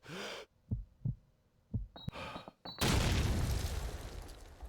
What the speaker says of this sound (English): Nade going right into MG.